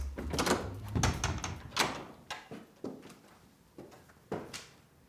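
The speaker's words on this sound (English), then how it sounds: "we open the doors" Doors to a dining room in a Paris apartment are opened, giving a series of wooden knocks, clicks and thuds in an uneven sequence, close and fairly crisp, with quiet room tone between.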